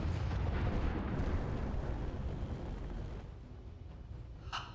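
A ship hit by gunfire in the video game Space Engineers, a heavy rumbling blast that roars loudly then slowly decays, with a faint sharp crack at the very end.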